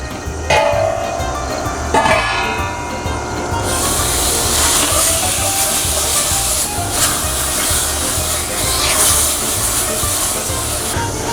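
A heavily salted bone-in pork roast searing in a pot for marinara sauce, with a steady loud hiss and sizzle that surges after a few seconds and continues unbroken, punctuated early by a couple of knocks.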